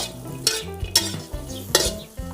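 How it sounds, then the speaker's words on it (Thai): Shallots, garlic and chilies are dry-roasted in a pan over high heat, with repeated scraping stir strokes of a utensil against the pan, close and fairly loud, with a faint crackle between strokes. "หัวหอม ใส่ไปครับหอมกระเทียมพริกนะครับ เอามาคั่ว"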